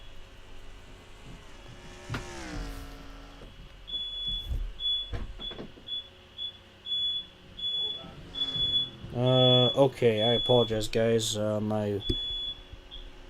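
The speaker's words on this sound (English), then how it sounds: "My smoke detectors are going off" Smoke detectors go off indoors with a series of high, evenly spaced beeps repeating for several seconds, while someone talks nearby and other electronic tones and noises sound briefly.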